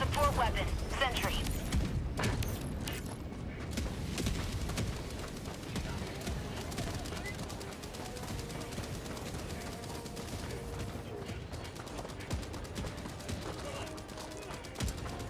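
Sentry turret gunfire in Helldivers 2, dense bursts of automatic shots and explosions running throughout, with voices talking over the battle.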